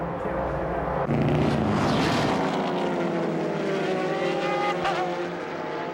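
A Grand-Am race car from the 2002 IMSA event at Fontana, driven by Freddie Lienhard Jr., roars past loudly with a continuous engine howl whose pitch shifts downward as it passes, mixed with other engine noise.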